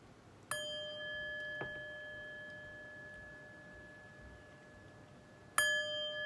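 A chime is rung with a sharp metallic strike, its bright tone ringing out and slowly decaying, followed by a softer second tap and another loud strike near the end, all in quiet surroundings.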